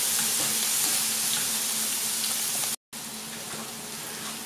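Onions browning with three meatballs in a hot pan, a steady close sizzling hiss that carries on evenly with one brief dropout, alone without talk.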